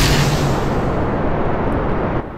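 Rocket engine at full throttle at launch in Kerbal Space Program, a loud dense roaring rumble that holds steady and then drops off abruptly near the end, no talking.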